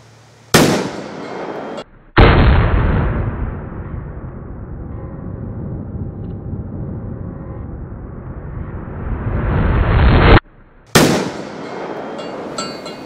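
Loud blasts from shots fired with a Walther WMP .22 Magnum pistol at an exploding target outdoors, with sharp bangs and one long roaring rumble that swells and cuts off, then another burst.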